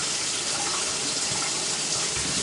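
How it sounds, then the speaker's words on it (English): Cold tap water runs steadily into a kitchen sink, pouring over boiled eggs in a constant close hiss and splash. "I'm going to run it in cold water."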